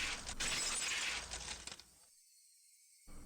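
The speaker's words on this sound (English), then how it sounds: "The unpleasant piercing sound of shattering glass" Glass shatters loudly in a Higurashi When They Cry visual novel, a dense bright crash that tinkles away over about two seconds before cutting to near silence.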